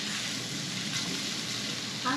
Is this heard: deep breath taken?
no